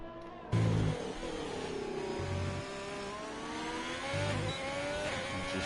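Racing car on a qualifying lap of the United States Grand Prix circuit in a racing game: a loud, high engine note rises and falls steadily through the gears, with several short bursts of lower rumble.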